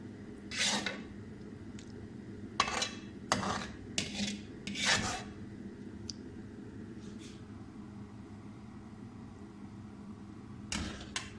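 A spoon clinks and scrapes against a pan and plate as an egg and tomato dish is served, with scattered sharp metallic taps in short clusters, then a long quiet stretch and a final pair of clinks; no one speaks.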